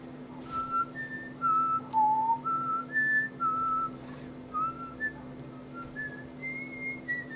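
A person whistles a melodic tune alone, a series of clear sustained notes rising and falling in a steady phrase over a constant low hum.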